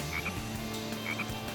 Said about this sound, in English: An interactive frog, look at him!